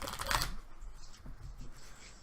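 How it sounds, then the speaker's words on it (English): A deck of Magic: The Gathering cards is riffle-shuffled nearby in one quick, crisp burst of fluttering card clicks, followed by faint handling noise. "So Ray, we're going to shuffle our decks."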